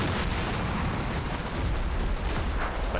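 Sustained machine gun and battlefield fire in Combat Mission: Battle for Normandy, a dense continuous rumble of rattling shots and low booms, loud throughout with no voices.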